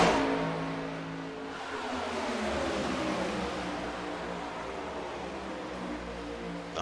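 NASCAR Next Gen race cars lapping Daytona in the iRacing game, a dense roar of several engines at steady high revs, loud and continuous with a brief dip partway through, no voices over it.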